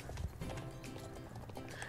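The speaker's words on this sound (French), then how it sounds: "ça ressemble à un cheval de trait au galop" A Clydesdale draught horse galloping in the online horse game Star Stable, a rapid rolling clatter of hoofbeats under ambient game sound, moderately loud throughout.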